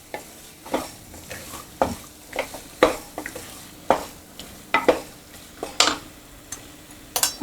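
Green peas stirred and sautéed in a gravy for Pune-style matar usal, a soft steady sizzle broken by regular scraping knocks of a spoon against the pan, close and without talk.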